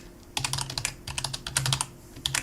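Rapid typing on a computer keyboard, clusters of crisp clacking keystrokes in quick bursts with brief pauses, close and clear.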